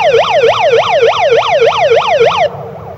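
A Pyle Pro PMP55R bullhorn megaphone runs its siren feature at half volume from 100 feet, a fast rhythmic yelp of about ten quick rising-falling cycles that cuts off sharply near the end.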